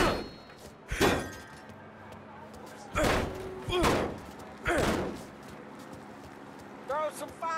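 In Mafia Definitive Edition, a thrown Molotov cocktail smashes, and it is followed by more heavy impact crashes. The crashes land at intervals of about a second over a steady noisy game background, and a voice talks over them.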